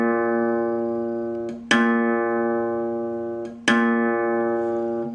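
The fifth string of a guitar, tuned to A sharp, is plucked three times, each note ringing out and slowly decaying before the next pluck, close and alone without speech.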